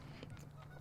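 Geese squabbling and honking in a fight, a steady nasal honking that carries on for under a second at moderate distance.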